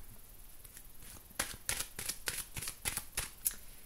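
Tarot cards being shuffled by hand before a reading, a run of close, quick riffling and slapping bursts in an uneven rhythm after a quiet start, with no speech.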